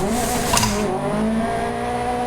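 Racing sim game car spinning out, engine droning with a brief tire squeal and skid burst near the start, then steady engine hum, loud and close with no talk.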